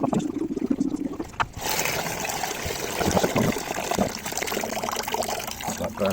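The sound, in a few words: vinegar draining away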